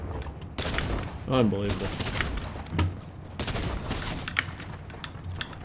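Shotgun blasts and other gunfire crackle through a Fortnite match in dense, rapid bursts and heavy thumps, loud and close, with a brief spoken word partway through.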